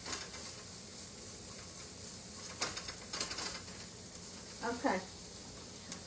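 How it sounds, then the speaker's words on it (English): Vegetables sautéing in a little olive oil for an Italian pasta dish, a soft steady sizzle with a few brief stirring scrapes and clatters, and a short spoken word near the end. "Just saute it for about 2 minutes, 2 or 3 minutes"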